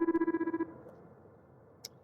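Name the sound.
phone ringing in sci-fi repair video game The Lift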